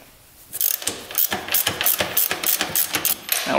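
Nut being removed from a bolt on a quad's swing arm, heard as rapid, sharp ratchet clicks in quick bursts from close by, with a few metallic taps.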